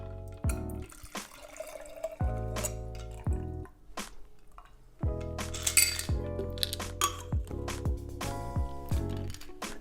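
A shaken Jägermeister and vodka cocktail is poured into a glass, with trickling liquid, dripping and bright clinks of ice and glass over background music.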